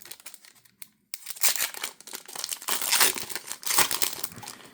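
NFL Score trading card packs from 2024 are ripped open by hand, loud crinkling and tearing of foil wrappers close up, coming in uneven bursts after a brief pause.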